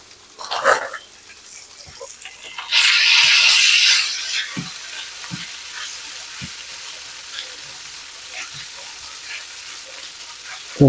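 Food dropped into a pan of brown butter sizzles loudly for about two seconds, then fades to a softer frying crackle, with occasional knocks and clatters and a brief noise burst near the start.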